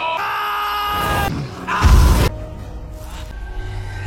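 A man screams in pain after being stabbed, a strained, sustained cry rising into a loud, rough burst before trailing off into groaning, heard up close over a dramatic background.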